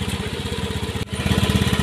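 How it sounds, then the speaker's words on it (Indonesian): A fuel-injected Honda Beat scooter with a Vario 125 injector runs at a steady idle, loud and close, a fast even putter that briefly dips and then settles slightly louder. "Sekarang kita hidupkan motornya. Starter. Nah, kondisinya hidup"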